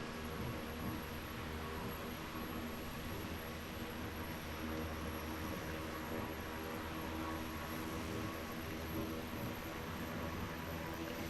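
An airplane cruising in Microsoft Flight Simulator 2020, a steady, quiet engine drone and wind hiss holding constant throughout.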